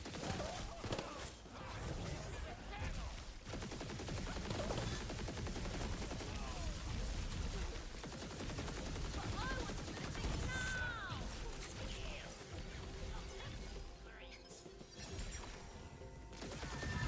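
Rapid gunfire from a weapon in the looter-shooter game Tiny Tina's Wonderlands, continuous bursts with crashing impacts throughout and occasional voices.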